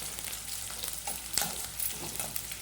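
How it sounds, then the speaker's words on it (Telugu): Green chillies and onions sizzle in a hot pan while a spoon stirs them now and then with soft scrapes, a steady close frying hiss with no talking. "పచ్చిమిర్చి, ఉల్లిగడ్డలు వేస్తున్నాను. ఈ విధంగా కలుపుకొని కొంచెం వేగనివ్వాలి"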